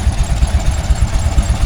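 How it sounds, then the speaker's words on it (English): A Fordson Major diesel tractor engine runs steadily at close range, its low, loud chugging pulsing in an even rhythm throughout with no talk over it. "we've got a Fordson Major diesel here now"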